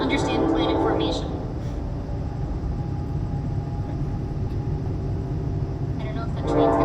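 A passing train rumbles loud and close, a heavy low roar with clattering wheels that holds steady for several seconds while people talk over it at the start and end.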